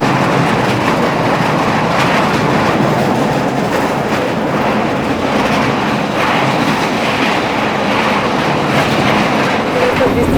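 The Uttar Sampark Kranti Express rolls through a hilly ghat section on the Katra line, a loud, continuous rumble of wheels on rails with steady clickety-clack running throughout at close range.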